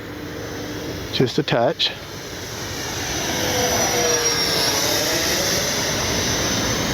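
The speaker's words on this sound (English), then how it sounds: "Good flying, little jet." A small radio-controlled model jet flies overhead with a steady, rising turbine whine that builds and holds; someone speaks briefly near the start.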